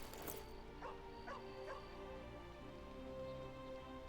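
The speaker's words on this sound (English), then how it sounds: "Well, I guess I can't play fetch, but I can pet the dog." Dog barking in the fantasy role-playing video game Baldur's Gate 3: a few short barks and yips near the start over a steady game-music and ambience bed, with faint speech.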